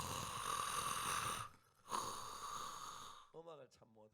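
A voice imitates a man's snoring with two long, rough, breathy rasps, then briefly speaks.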